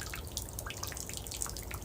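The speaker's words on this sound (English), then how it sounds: "The drips are quite peaceful." Rainwater dripping around an outdoor hot tub in the rain: a dense, soft patter of small drips over a steady watery hiss, faint and constant throughout.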